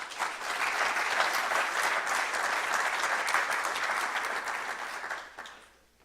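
An audience at a climate and clean energy investment forum breaks into sustained applause to welcome a speaker, steady and full for about five seconds before fading out, with no talk over it.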